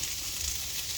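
Garlic and onion frying in a pan for a Filipino dish, a steady, close hiss of sizzling oil that runs without a break and with no voices.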